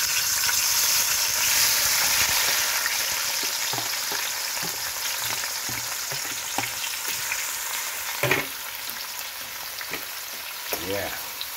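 Scallion and ackee fry steadily in a pot for Jamaican breakfast, a dense continuous sizzle with intermittent stirring scrapes and clinks, close and moderately loud.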